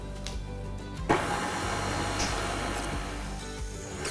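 An electric mixer on a low setting runs steadily as it mixes sugar for cake frosting, with a brief clunk near the start and then an even whirring hum throughout.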